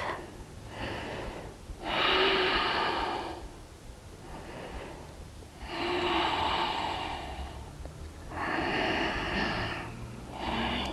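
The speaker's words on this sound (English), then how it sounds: "reactivate your Ujjayi breath" Ujjayi breathing during a yoga class: three slow, loud, airy breaths, each a long hissing exhale with a throaty, ocean-like rasp, separated by quieter inhales, close and alone.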